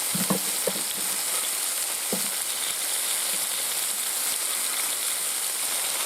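Onions fry in oil in a kazan, a loud, steady, close sizzle throughout with a few soft scrapes and knocks of stirring early on, no talking.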